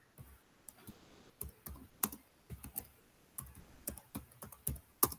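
Quiet keystrokes on a computer keyboard tap out in irregular clusters and single clicks, close up and alone with no voices.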